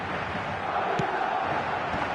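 Dense roar of a stadium crowd at a football match in a video game, steady and fervent with a brief sharp accent, an announcer's voice faintly over it.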